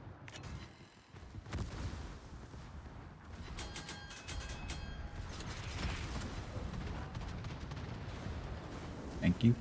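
Naval gunfire striking a ship's belt armor in World of Warships: a dense, continuous roar of booming shell hits and crackling impacts with metallic clanks, loud and sustained, ending in a couple of sharper thuds.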